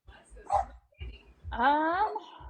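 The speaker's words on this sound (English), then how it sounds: "my dogs are very protective of the door when there's a dog on the other side" Two dogs bark at a door indoors, first a single muffled woof, then a longer, louder bark with a whining edge, while a person's voice is faintly present underneath.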